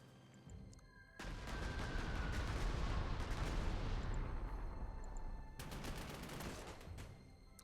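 Artillery barrage in the Panzer Corps 2 war game, a sustained, dense roar of shelling that starts abruptly and runs for several seconds, then breaks into a fresh burst of sharp, crackling blasts near the end.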